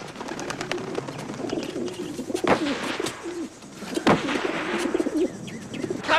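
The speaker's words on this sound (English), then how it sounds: "This is a good little English carrier pigeon." An English carrier pigeon coos in soft repeated phrases up close, with a couple of sharp bangs and rustles in the background.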